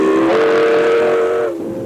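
A train whistle sounds as a loud, sustained steam-style tone over rolling rail noise, then fades as the train passes, with no voices.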